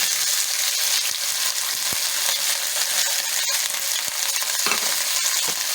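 Onions crackle and sizzle steadily in hot cooking oil in a pan, a dense, continuous frying hiss heard close up with occasional stirring clicks and no talking.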